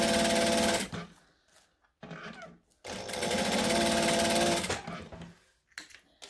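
Sewing machine stitching small buckle loops, running close and loud in two rapid, steady bursts separated by a short pause, ending with a few quick stops and starts.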